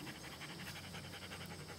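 A dog pants quickly and softly after playing ball, a faint steady rhythm of short breaths close by, heard alone.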